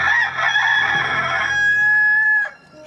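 A rooster crows once at night, a loud close cock-a-doodle-doo that rises and holds its drawn-out final note before breaking off, with no talking around it.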